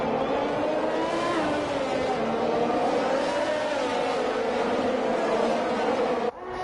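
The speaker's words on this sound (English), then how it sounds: "Tsunoda being swamped now by all the cars behind him with the DRS" Formula 1 cars in a racing video game at the Mexico circuit scream past in a dense pack, a sustained loud whine of high-revving engines with shifting pitch, cutting off abruptly near the end.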